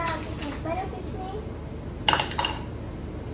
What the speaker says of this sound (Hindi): तो दूसरी ट्रे में ला चुकी हूँ, तो चलो डालती हूँ बर्फ इसमें।